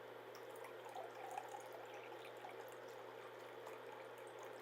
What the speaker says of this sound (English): it's starting to gurgle out and splash a little bit